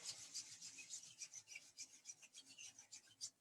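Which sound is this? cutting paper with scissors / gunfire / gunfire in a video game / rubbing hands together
rubbing hands together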